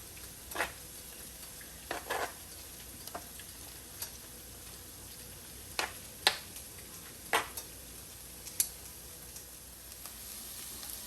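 Seasoned chicken tenders stirred in a frying pan during a Southern fried cabbage cook: faint steady sizzle with scattered sharp clicks of a utensil against the pan, spaced irregularly, with no talking.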